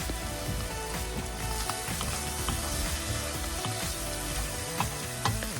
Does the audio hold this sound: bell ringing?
no